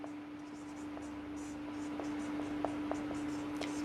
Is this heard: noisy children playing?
no